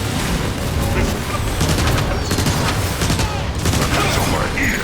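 Rapid anti-aircraft gunfire bursts in the Transformers War for Cybertron video game, loud and sustained with booming blasts layered over a dense barrage, and voices shouting over the din.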